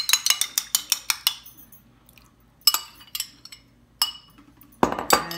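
Eggs cracked one at a time against a bowl's edge for cornbread batter, a quick run of sharp clinking taps followed by scattered knocks and shell sounds, close and fairly loud, no talking.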